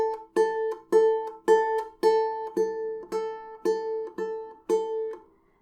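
Single notes plucked on a ukulele's A string, alternating thumb and index finger, a steady series of about ten clear, evenly spaced repeated notes, close and alone.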